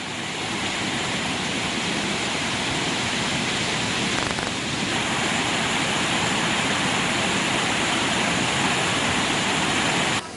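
Water rushing through the opened spill gates of the Tisa tank reservoir in Anuradhapura, a loud, continuous roar of released floodwater with no break.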